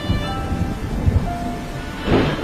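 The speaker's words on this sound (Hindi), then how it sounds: "बारिश बहुत ज्यादा तेज थी।" Heavy rain pours down steadily while low thunder rumbles beneath it, with a louder burst near the end.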